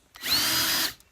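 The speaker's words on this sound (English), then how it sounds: "I'm just going to drill a hole right here" A power drill bores a hole into the side of a tub in one continuous, loud burst of about half a second, with a steady high whine that rises in pitch as it spins up.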